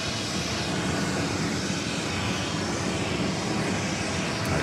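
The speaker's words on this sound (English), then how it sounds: "the Singapore 777 being backed up here" Singapore Airlines Boeing 777 being pushed back at JFK with no passengers aboard: a steady, broad engine roar with a constant jet hiss, holding even for the whole stretch with no voices.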